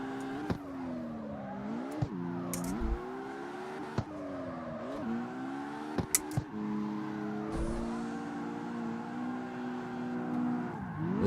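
Car engine in a street racing video game revs and drones steadily while the vehicle drifts, pitch sliding up and down through slides with brief tire squeals and clicks, loud and continuous with no talking.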